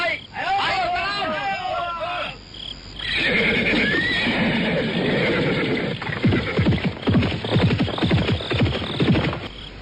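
Horses neigh as riders mount and set off in a radio drama, with loud whinnies at the start, then voices of several people talking over more neighing and clopping sounds.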